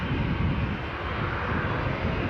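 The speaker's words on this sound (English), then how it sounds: "we've just got now a Ryanair Boeing 737 making its departure" A Ryanair Boeing 737 jet roaring on departure from Newcastle airport, a steady, loud broadband engine rush filling the whole moment with no break.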